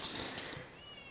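A cat gives a single short meow, close and fairly faint, against a quiet room background with no talking.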